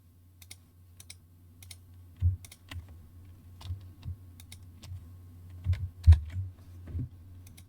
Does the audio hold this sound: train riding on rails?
no